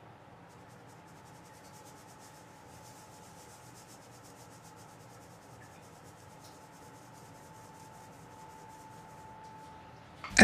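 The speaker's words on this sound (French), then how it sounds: "mélangez le tout par un mouvement de frottement avec les paumes de la main" Palms rub butter, flour and icing sugar together on a clean worktop for shortcrust tart pastry, making a steady, soft, continuous gritty rasping heard alone and close, ending in a brief louder knock.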